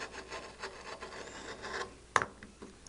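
A Fiskars circle cutter rides around and slices through material, giving a soft, steady rasping scrape with a rhythmic texture, ending in a sharp click or knock, close and fairly quiet.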